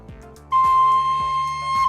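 A single sustained high C note on a melodic instrument enters abruptly after a brief quiet lead-in and holds steady and clear, with faint background sounds and no talking.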